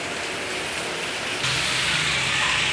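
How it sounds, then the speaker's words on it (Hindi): Steady broadband rain falling, a continuous hiss that grows slightly louder partway through, with no voices present. "तो थोड़ा सा बारिश भी हो रही है"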